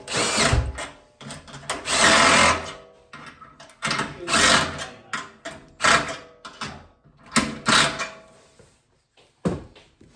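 A power drill drives screws into toilet fittings in repeated bursts of whirring, each lasting a second or so and separated by short pauses and small handling knocks, close and fairly loud with no talking.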